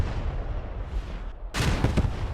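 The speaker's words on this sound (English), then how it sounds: "What a big mortar at the end there takes Williams and almost takes out Thomas as well." A mortar explosion in the WWII game Post Scriptum during a Market Garden realism event: a sudden loud blast erupts over a low rumbling battlefield background, followed by a short echoing tail.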